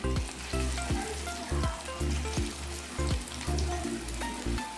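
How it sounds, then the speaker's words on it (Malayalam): Prawn vada fry in hot oil with a dense, crackling sizzle, while stirring in the pan causes regular bubbling surges about every half second. "ഇനി നമുക്ക് ബാക്കിയുള്ളതെല്ലാം അതുപോലെ തന്നെ ചുട്ടെടുക്കാം"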